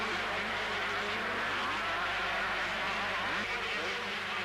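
Several 1991 motocross bikes racing over jumps, including Hondas, give a steady high buzzing engine whine with faint rising and falling pitch sweeps, loud and continuous throughout.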